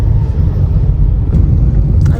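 Steady low rumble inside a moving car, continuous and even throughout, with no voices.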